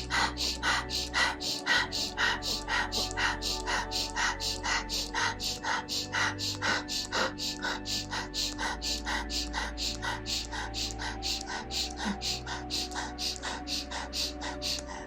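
Rapid breathwork breaths drawn in through the nose, a fast, even train of close, sharp sniffing inhales repeating throughout over a low sustained musical drone.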